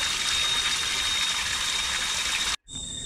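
Water pours steadily from a mountain spring along a hiking trail up Gunung Angsi, a close, loud, continuous gushing splash that cuts off abruptly near the end, then resumes more quietly.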